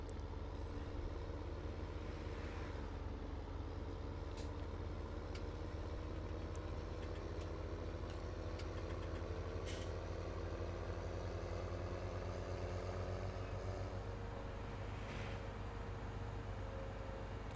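A tractor engine idles steadily in a farming video game, a continuous low rumble that stays near and unchanged with no talk over it.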